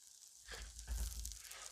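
Red and green bell peppers hit hot oil in a pan for a venison cheesesteak, setting off a quick, close sizzle that rises after a short silence and keeps crackling steadily.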